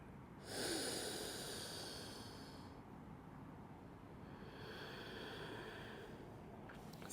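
Slow, deep breaths drawn during a yoga flow, a long broad inhale followed by a pause and a second softer breath, close and steady with no talking.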